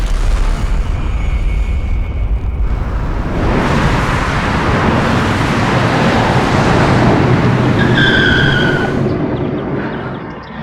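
A car driven fast gives a loud, steady rushing roar that swells partway through, holds heavily, then eases slightly near the end, with no speech.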